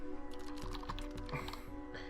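Rapid, steady keystrokes on a computer keyboard repeating the same key over and over, close and fairly clear with a faint background hum.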